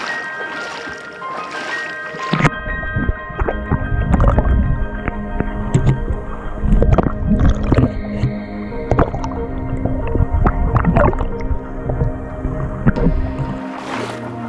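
Underwater sound captured by a GoPro submerged in clear water along a palm trail pond, with a steady muffled wash, low rumbling, and scattered bubbly clicks and knocks, loud and close, with no talk.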